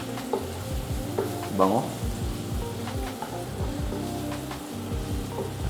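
Garlic sautés in a pan, spitting and crackling steadily under repeated stirring scrapes. A brief spoken word cuts in over the sizzle.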